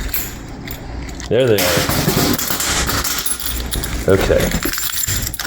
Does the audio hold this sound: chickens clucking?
no